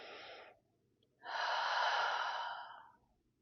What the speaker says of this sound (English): One more big deep breath in.